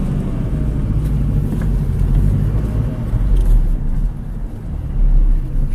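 A Nissan car drives along with a low, steady road rumble and engine hum from inside the cabin, the level swelling slightly as it picks up speed.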